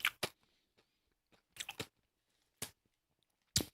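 A salty, peppery, banana-shaped crunchy snack is chewed right at the mic in sharp, irregular bursts of crunching separated by silent pauses.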